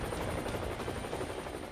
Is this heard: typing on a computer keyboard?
no